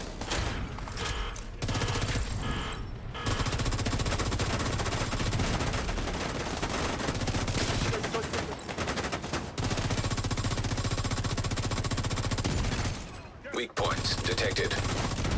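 Sustained video game gunfire fills most of the stretch, dense automatic bursts broken by a few brief pauses, with a synthetic voice announcing over the shooting.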